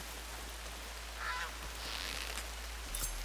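A duck quacks in the video game Horizon Forbidden West, a couple of faint, brief calls over a steady, quiet game ambience.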